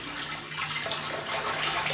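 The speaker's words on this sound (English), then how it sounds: "Let's get some water here" Tap water runs into a shaving brush for a brief, soft, steady splash and trickle, fairly faint and close.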